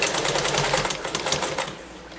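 A sturdy older all-steel sewing machine stitching through denim while hemming jeans, running at a fast, steady mechanical chatter with a rhythmic pulse, close and loud.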